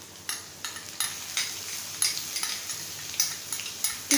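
Onions, already light brown, frying in a karahi for chicken karahi as ginger garlic paste goes in: steady close sizzle broken by rhythmic metal spoon scrapes and clinks against the pan.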